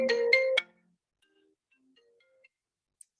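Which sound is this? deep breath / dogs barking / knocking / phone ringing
phone ringing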